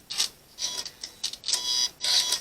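A home sewing machine ties a lock-off stitch in place on a quilt top without the fabric moving, giving a string of quick mechanical whirring bursts with short pauses between them, close and moderately loud.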